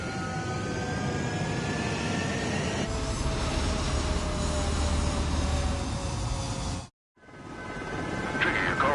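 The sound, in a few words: fighter jets taking off from a runway in a video game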